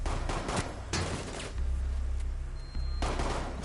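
Bursts of video game gunfire, several loud rapid volleys of shots in quick succession with short gaps between them.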